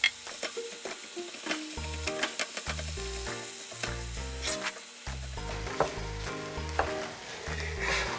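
Cold rice is stirred and broken up with vegetables in a hot frying pan, giving a steady sizzle punctuated by scraping and clacking stirs, alongside a bed of background music.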